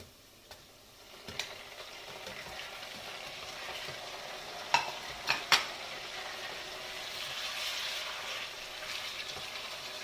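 Meat going into a pan of browned onions, setting off a quiet, steady sizzle that swells toward the end, with a few sharp clicks and taps in the middle.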